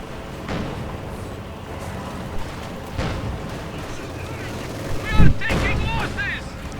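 MG-42 machine gun fire in Company of Heroes 2 amid a World War II battle, scattered shots and bursts over a rumbling combat backdrop, with a louder blast near the end and a commentator talking over it.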